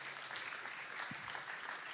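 Audience applause at a talk on the hydrogen supply chain in Veneto, a steady even wash of clapping throughout, moderately distant.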